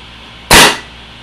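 A single sharp pneumatic pop from a PMR paintball marker on a UL frame fired right after its air tank is hooked up. The loud, close burst cuts off quickly with no talking.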